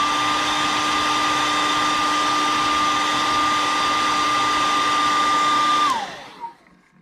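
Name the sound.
hair dryer drying paint on a fishing lure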